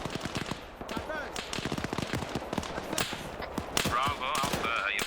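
Video game gunfire in a Sierra Leone RUF campaign battle: dense bursts of automatic fire and single shots crack continuously at mixed distances, loud and overlapping, with voices talking under the shooting.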